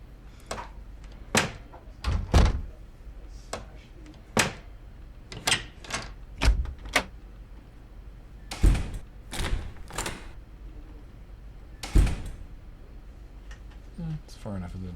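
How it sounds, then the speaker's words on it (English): Several sharp door closes and thunks from a sound-effect clip, spaced irregularly in loud, punchy hits. Softer clicks and rattles sit between them, with quieter voices in the background. "Like a chunk of the door closing."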